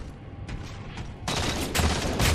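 Gunfire in a Halo 4 multiplayer match: sharp bursts of shots that turn into a dense, louder fusillade in the second half, with overlapping rapid fire.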